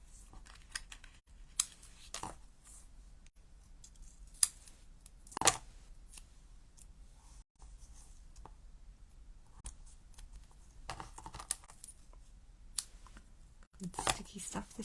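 Scissors snip through a strip of sticky tape: a few sharp, scattered cuts and crinkles spread over a quiet room with long pauses between them.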